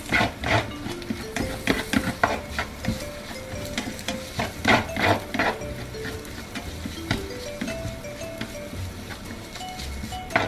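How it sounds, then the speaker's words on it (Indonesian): Carrots frying in a pan for yakisoba, stirred steadily with a utensil scraping and clacking against the pan over a constant sizzle. "Aduk lagi deh."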